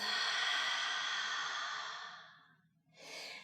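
A long, deep exhale through the mouth during yoga breathing practice, close and soft, trailing off into silence before a short new breath begins, with no talking.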